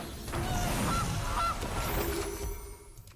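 The Gilded Goose card in MTG Arena honks a few times in quick succession. The goose calls are loud and clear and sit over the game's background effects.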